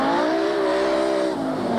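A 1988 rally car driven by Nick de Waal, fitted with ventilated discs and 4-pot brakes, sounds close and loud as its engine note holds steady and then drops sharply under hard braking, with no talk.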